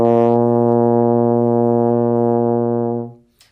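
A euphonium, or baritone horn, sounds a single sustained open B flat with no valves pressed, a steady rich brass tone lasting about three seconds before cutting off cleanly.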